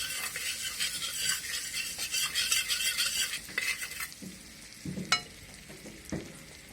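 White butter melts in a kadai with a soft, steady sizzle while a spoon stirs and scrapes against the metal, with occasional clinks.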